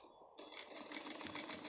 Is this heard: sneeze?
no